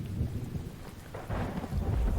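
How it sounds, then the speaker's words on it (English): Thunderstorm in a survival video game, a low rumble of thunder rolling over steady rain, heavy and close, swelling toward the end. "Oh, I do wish this storm would end."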